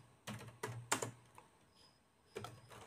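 Keys tapped on a computer keyboard to enter a command: a few quick clustered clicks, a pause, then one more keystroke, close and fairly quiet in a still room.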